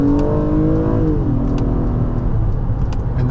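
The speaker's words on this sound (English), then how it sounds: "that was me letting off the gas slightly before shifting" A 2019 Acura TLX A-Spec V6 FWD pulls hard with a loud, rising engine note, then eases off the throttle and the pitch drops just before a gear change, with steady road roar underneath and no talk.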